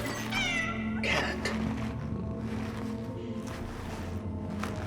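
A cat meows loudly in a horror video game, a couple of drawn-out cries near the start over a constant low droning ambience that carries on to the end.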